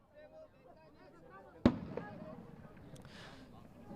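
Fireworks go off during a soccer match: one sharp, loud bang stands out midway, followed by fainter pops and crackles, under a commentator's voice and crowd ambience.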